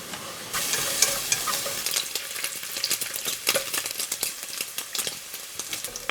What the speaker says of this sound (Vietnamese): Tiếp theo thì mình cho vào chảo 150g mỡ để mình thắng mỡ ha.